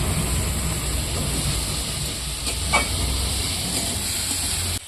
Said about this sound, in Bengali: এই যে মাংস দেওয়া হচ্ছে এখানে,